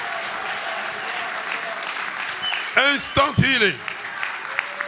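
Audience applause and cheering bursts out midway at a lively French-language healing gathering, loud and close, with a voice talking over it before and after.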